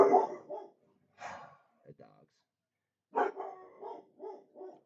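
Dogs bark in short bursts, a few yips at first and then a quick run of five or six barks, mixed with breathy noises at moderate distance.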